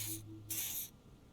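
Two short bursts of pheromone spray hiss from a canister in the video game Disco Elysium, each a bright airy puff over a faint electronic hum, the second longer than the first.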